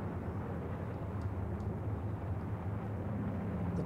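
A De Havilland Mosquito DH98 taxis at Stornoway, its engines giving a steady, even, low rumble with no break and no voices.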